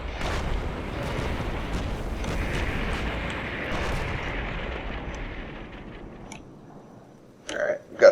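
Repeated wall-breach explosions rumble through a Combat Mission Black Sea battle, a dense, continuous roll of booms and crackling blasts that fades near the end before a couple of sharp bursts.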